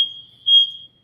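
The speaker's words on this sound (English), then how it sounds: "They're working on the fire alarm today in my building." A building's fire alarm, under maintenance, gives a single shrill, steady electronic tone lasting about a second, close and fairly loud, with no talk over it.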